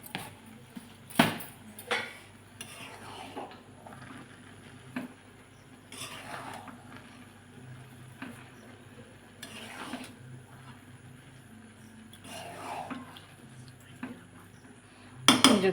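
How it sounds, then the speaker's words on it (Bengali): A spoon stirs sugar into pilaf in a cooking pot, producing scattered scraping clinks and metallic taps against the pot at an irregular pace, close and fairly quiet, with no talking. "যে চিনিটা মিক্স করে দিলাম"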